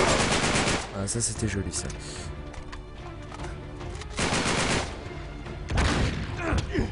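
Shotgun and gunfire bursts in the video game Uncharted 3, set in a London metro, come in loud clustered volleys with short gaps, and someone talks over the shooting.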